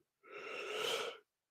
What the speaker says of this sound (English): Sorry, I'm yawning.